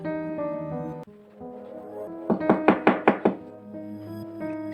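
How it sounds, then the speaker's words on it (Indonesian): A quick burst of about six sharp knocks on a front door, close and clear, sounding over a low droning background in a tense horror story scene. "Suara ketukan pintu membuyarkan lamunan Elisa"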